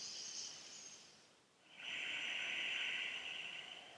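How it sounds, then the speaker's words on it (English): Slow breaths during a yoga stretch, a soft airy inhale tapering into a brief pause, then a longer, louder hissing exhale held steady, close and alone. "Just a couple breaths."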